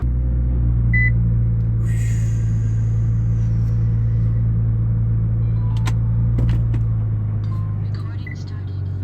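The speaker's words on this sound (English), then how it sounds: "So you can ride with me in the GTR for a second as I pull it back in the." A Nissan GTR being pulled back into a parking spot, its engine a steady low rumble heard from inside the cabin, with a faint beep and a few small clicks over it.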